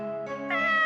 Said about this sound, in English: With its head tilted slightly to the side, it let out an adorable meow.